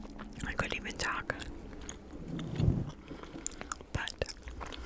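Wet, sticky chewing of a thick piece of bubble gum right at the mic, with irregular smacks and clicks and a soft whisper woven between the chews.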